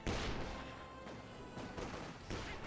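Light guns blast away in a Company of Heroes 2 battle, firing in repeated quick bursts and volleys at a faint, distant level.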